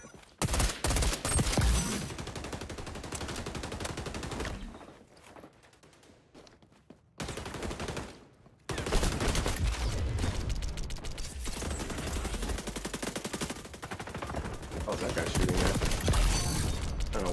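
Rapid gunfire from the shooter game XDefiant, dense mechanical bursts of shots that break off briefly in the middle, then resume loud and sustained, with faint game noise underneath.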